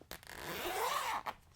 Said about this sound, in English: sorry for the zippers